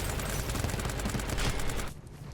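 A rapid string of pistol shots in the sci-fi shooter Synced: Off Planet, loud and dense, cutting off abruptly near the end.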